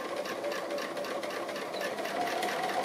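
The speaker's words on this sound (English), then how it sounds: "All it's going to be is just a little line of sewing, one line of sewing." Sewing machine running steadily as it stitches a single short applique line on fabric, a continuous close whirring hum with a faint rhythmic mechanical pulse and no pauses.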